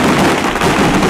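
Beehive fireworks in Taiwan go off in a dense, continuous barrage of crackling bursts, loud and unbroken for the whole moment with no pauses between the rapid pops.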